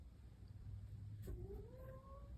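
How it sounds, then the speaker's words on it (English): A house cat gives a single drawn-out, rising meow partway through, moderately close over a steady low room hum, with no talk. "The cat is coming over. She's freaking out too."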